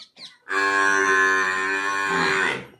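A buffalo lows in one long, loud, drawn-out moo, preceded by a couple of brief faint calls, close by on a village farm.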